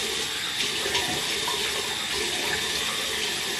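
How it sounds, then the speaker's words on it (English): Tap water runs steadily and fairly loud into a sink for wetting the face before a beard shave with a safety razor, a constant hissing splash with no talking. "You want to wet your face a little bit."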